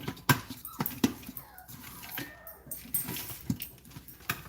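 A dog fed leftover popcorn kernels gives soft, close whimpers and small yips, mixed with faint handling and clicking sounds at low volume.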